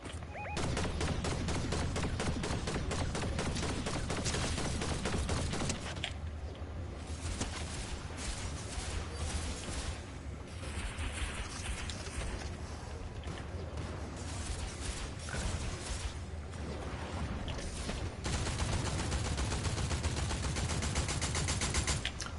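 Rapid automatic gunfire from Fortnite rattles in long, dense bursts, loud and close, with brief pauses between volleys and mechanical clicks mixed in.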